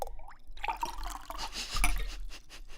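An animated character drinking water, a quick run of wet gulping and glugging sounds with little squeaks and splashy drips, close and lively, with no talking over it.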